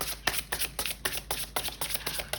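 Tarot cards being shuffled for a reading, a close, crisp run of riffling bursts repeating at a steady rhythm, with no talk over them.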